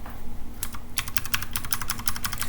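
Rapid, close computer keyboard typing of commands into a browser, a dense string of crisp key clicks starting after a brief pause and running steadily to the end.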